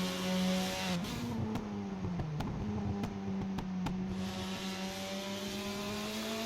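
A Ford Falcon touring race car with a 5-litre Windsor V8 drones steadily at speed on a circuit, a sustained loud engine note with a brief pitch dip and several sharp clicks, continuous throughout.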